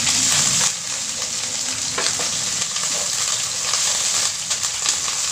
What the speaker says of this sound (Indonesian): ditumis di bawang merahnya.